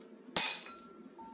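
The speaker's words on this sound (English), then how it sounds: "Then there came the sound of glass breaking." Glass shatters in a single loud, sharp crash, followed by a brief tinkling of falling shards that fades over about a second, set against a faint steady background hum.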